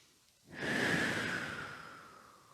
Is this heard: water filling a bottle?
no